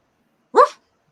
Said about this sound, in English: Got a mean old doggy in the house.